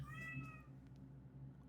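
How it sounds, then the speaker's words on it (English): A female cat in heat cries out in a drawn, wavering meow at the start, then fades to quiet room noise with a low steady hum underneath. "My cat started crying, bro. She in heat."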